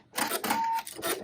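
A home embroidery machine stitches placement lines for bat wings on a Halloween jar topper, a quick rapid mechanical chatter of needle strokes with a faint whine, close and brief.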